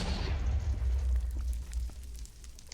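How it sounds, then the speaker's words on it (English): A loud in-game explosion in Minecraft, set off to light a nether portal, booming at first and then rumbling low as the blast decays into crackling debris. "The explosion does light the nether portal."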